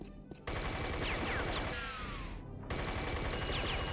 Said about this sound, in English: It's a minigun.